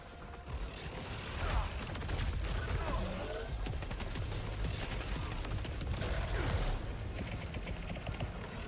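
Fast, busy rounds of pistol fire and clattering weapon mechanisms in the sci-fi video game Saros, layered with effects through the whole stretch. Loud and dense, with a player talking over it in places.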